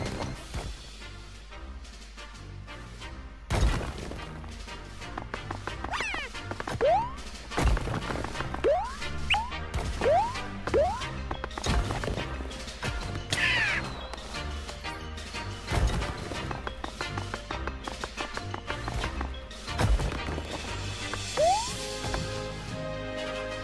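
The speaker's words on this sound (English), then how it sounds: "Smashing into confetti." Objects in the PS4 video game Dreams smash apart into confetti, a series of sharp crashes and thwacks at an irregular rhythm, some with brief whooshes, loud and close over a faint game background.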